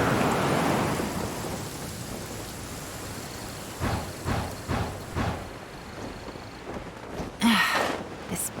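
Thunder rumbling through steady rain in the video game Genshin Impact, with a series of rolling booms in the middle and a sharper crack near the end over a continuous rain wash.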